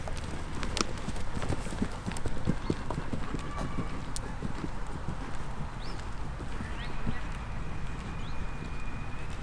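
A horse canters around a riding arena during a jumping lesson, its hoofbeats thudding in a steady rolling rhythm at moderate distance, with birds and faint ambient noise around.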